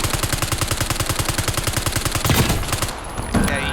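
Rapid automatic gunfire in the Warzone game from Black Ops 6, a loud, even stream of close shots for about three seconds before cutting off into a clattering tail.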